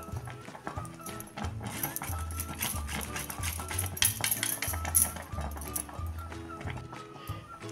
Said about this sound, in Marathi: थोडं ह्यामध्ये जायफळ किसून घेते